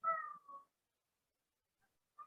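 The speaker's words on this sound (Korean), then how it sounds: "예를 들어서 야옹의 소리가 들리네." A cat meows once clearly and fairly loud, a drawn-out call followed by a shorter one, then a brief faint meow after a pause of silence.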